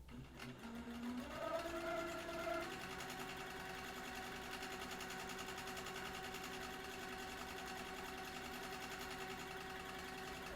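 A sewing machine runs steadily and continuously while stitching contour stippling on a quilt, a close, even mechanical hum after a brief start-up.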